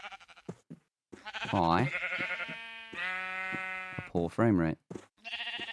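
Blocky Minecraft sheep bleat several times in a modded survival world, with wavering, nasal cries standing out clearly while someone talks in between.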